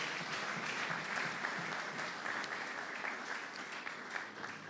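A church congregation applauding the Lord during an evangelistic service, producing sustained, dense clapping from many hands that holds steady throughout, moderately loud and without speech on top.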